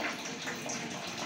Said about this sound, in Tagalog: binuksan ko yung gripo ni Jing sa CR. Naririnig nyo, parang may agas naman.